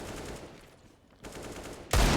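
Gunfire in a Counter-Strike match on the Overpass map: steady rattling shots through most of the moment, a brief lull, then a louder burst of shooting at the end.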